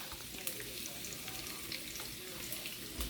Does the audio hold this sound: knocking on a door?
no